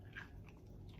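A single soft crunching bite into a barbecued rib slathered in sauce, close and quiet, followed by faint chewing.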